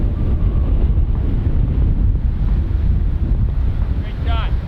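Strong gusty wind buffets the microphone on a golf course, a loud roaring rumble throughout, with a faint voice briefly audible near the end.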